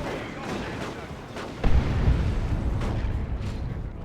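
A grenade bursts in Warhammer 40k: Dawn of War 2, a heavy low boom partway through a busy battle with scattered gunfire and impacts before and after.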